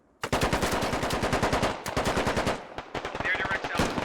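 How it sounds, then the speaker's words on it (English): Rapid automatic gunfire during a squad operation in a tactical shooter game: loud, close bursts of evenly spaced shots that rattle on for seconds, break briefly, then resume in shorter volleys. "Groot actually took some shots at Imanaz there through the mirror hole in the wall."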